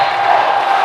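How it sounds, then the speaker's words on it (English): A volleyball arena crowd at a Hawaii versus Stanford men's match roars loudly and steadily, a dense wall of cheering and shouting voices with no break. "Crowd turning up the volume knob here."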